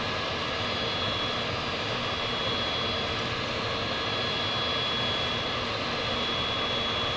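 An airplane in flight, a continuous broad engine roar that holds steady and fairly loud throughout with no voices.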